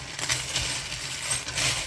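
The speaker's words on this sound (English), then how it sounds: "I am going to actually roll dice too." Dice rattling and tumbling across a surface in a quiet room, a short run of clicky clattering impacts with no voices.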